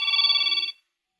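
A cellphone rings with a bright, warbling electronic tone for under a second before cutting off abruptly, leaving silence.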